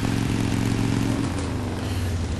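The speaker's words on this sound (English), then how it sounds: "Madison Paige is riding into the hotel on a motorcycle" Madison Paige rides a motorcycle into a hotel in the video game Heavy Rain, with a loud, steady engine drone that drops slightly in pitch partway through. The engine is close and there is no talk.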